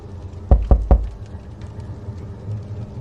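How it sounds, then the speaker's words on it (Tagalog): Three quick, firm knocks on a door, evenly spaced, followed by quiet room tone. "Nang biglang may kumatok"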